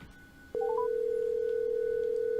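Telephone call being placed to Kevin: a few quick rising beeps, then a steady unbroken dial tone that holds loud and clear after a click.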